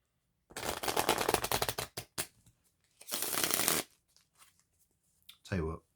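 Playing cards shuffled and riffled close up in loud bursts, a long riffle, a few snaps, then another riffle, with a brief voice at the end.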